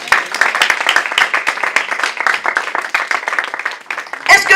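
A church congregation bursts into sustained, dense applause for a brother, many hands clapping together for several seconds, loud and close, with voices mixed into the crowd noise.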